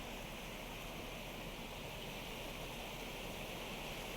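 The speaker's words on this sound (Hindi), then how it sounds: "पहाड़ी नदी नालों का जलस्तर बढ़ा हुआ है और ऐसे में तेज बहाव देखने को मिल रहा है" A swollen mountain river surges after heavy monsoon rain, a steady, dense roar of fast-flowing water with no pauses, loud and continuous throughout.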